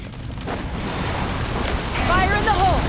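Cannon fire in Genshin Impact bursts in quick, loud blasts over a rushing, noisy backdrop, with a short voice line near the end.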